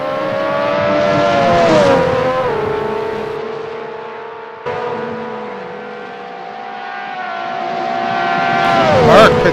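A Lotus 98T race car laps Hockenheim in a racing video game, its engine whining loud and sustained, with pitch sweeps through gear changes and a sharp shift near the end, under race commentary.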